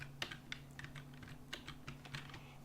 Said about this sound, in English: I'm actually going to use the WASD keys for this now